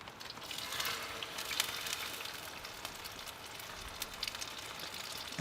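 Seasoned eggs frying in oil in a non-stick pan, a steady soft hiss and crackle that stays even throughout, fairly quiet and close with no talking.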